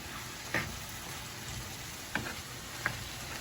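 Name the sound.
tomatoes, onions and garlic being stirred in a pan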